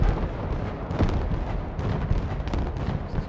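Artillery fire in Broken Arrow makes a dense, continuous roar of booms and blasts with no clear gaps, loud and heavy throughout.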